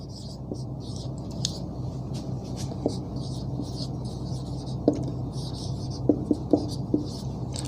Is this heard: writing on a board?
yes